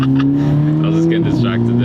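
A car engine in sport mode revs loud and close with a steady droning tone that dips partway through, with crackles on top and a voice talking over it.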